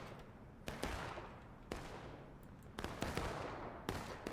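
Gunfire crackles through a video game battle in a forest as troops hold position and keep shooting, with several sharp shots and bursts ringing out at irregular intervals over a steady rumbling backdrop of distant fire.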